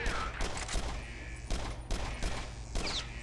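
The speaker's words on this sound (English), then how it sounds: "That sounded like a shotgun." Shotgun blasts in the video game Exodus From The Earth: several sharp, loud bursts at irregular intervals over a steady low in-game hum, with no speech.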